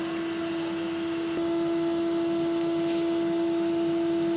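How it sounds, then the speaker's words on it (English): A hoover vacuum cleaner runs steadily nearby, cleaning out a wood burner stove, with a constant drone and high whine and a brief knock partway through. "And then get the old hoover in. Give it a good clean out."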